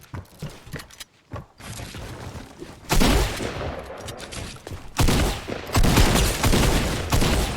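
Gunfire in a video game: bursts of sharp, close shots in rapid clusters, some rattling like a fusillade, with brief pauses between volleys.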